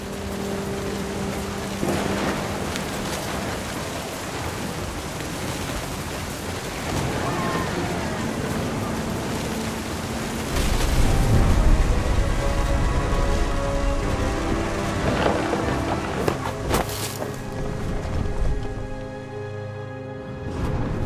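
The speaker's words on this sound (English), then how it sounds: "The thunder sounded much too close and full of angry power." Rain and a thunderstorm in the video game What Remains of Edith Finch, a steady hiss of rainfall with a low rumble of thunder swelling midway, laid under music and other game sounds.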